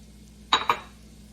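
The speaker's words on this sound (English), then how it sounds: "Next we add in our onions." Onions are tipped into a cooking pot for mushroom soup, giving two quick, close clattering knocks of utensil against pot in a quiet kitchen.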